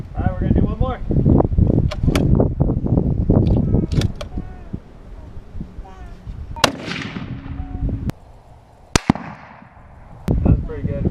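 Gunshots ring out at target practice: sharp, loud cracks spaced a second or two apart, each followed by a short decay. The first one comes after a stretch of people talking.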